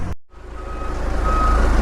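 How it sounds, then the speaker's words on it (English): A truck's reversing alarm beeps in a steady, rapid repeating rhythm over a loud, close diesel engine rumble as trucks arrive at a dirt-hauling site. "we got our last round of trucks coming in for the day"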